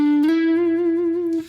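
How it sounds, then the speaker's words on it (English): A single guitar note on the D string slides up from fret 12 to 14, then sustains clearly with a slight waver before fading out. It plays alone. "Once more we're going to slide again on the D string,"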